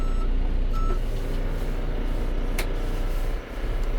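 A John Deere 410L backhoe reversing in four-wheel drive, its diesel engine rumbling loudly and steadily while a high backup beeper sounds faintly at intervals over the engine noise.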